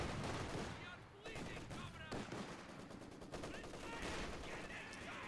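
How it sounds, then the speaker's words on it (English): Sustained machine gun bursts and scattered gunfire from a Company of Heroes 2 match, with both sides' machine guns firing across the map's midline, loud and dense throughout with a faint voice underneath. "Both players using machine guns to try and control the midline of the map"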